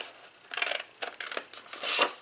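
Scissors cutting cardstock along a score line for a daisy gift box card, close crisp snipping strokes in short bursts separated by brief pauses, the last stroke longer and louder.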